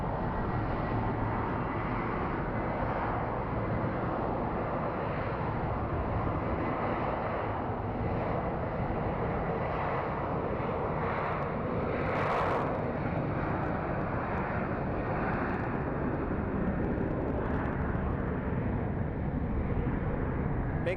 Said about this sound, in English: looks like we have what appears to be an American Airlines landing